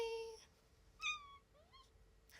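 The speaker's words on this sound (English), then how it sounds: "Little kitty has come to say hello." A kitten a couple of months old gives a few thin, high meows, one drawn out, then a brief chirp and a quicker call, faint and close in a quiet room.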